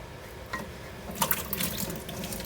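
Water sloshing and splashing as washed sweet potatoes are moved into a boiler of water, quiet, with a few brief splashes near the middle and no talking.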